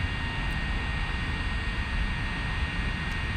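A drone flies near a Walmart with a steady, dense whirring roar that stays constant and fairly close throughout. There is no speech.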